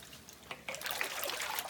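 A mineral hot tub bag sloshed through shallow water in a sink, making a wave motion. It gives a close, continuous splashing and trickling swirl that builds after a brief quieter start.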